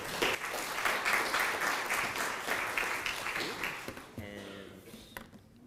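Audience at a sustainable homes expo applauds to welcome a speaker to the stage: dense, sustained clapping that fades after about four seconds, followed by faint stage sounds.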